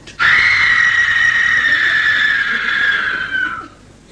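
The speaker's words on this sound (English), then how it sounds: "She screamed." A woman's terrified scream rings out loud and close, a single sustained high-pitched wail held steadily for over three seconds before cutting off, with no talking over it.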